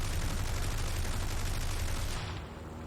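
Aircraft machine guns in War Thunder hammer out a dense, continuous stream of fire while shooting down an LA-5 fighter over German-occupied Norway, then cut off abruptly near the end.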